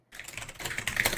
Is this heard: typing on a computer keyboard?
yes